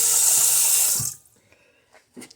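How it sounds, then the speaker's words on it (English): Tap water pours hard into a pot being filled toward an 8-cup line, a loud rushing stream that cuts off after about a second, followed by a few faint knocks. "you fill up the rest of it with water until you hit the fill line"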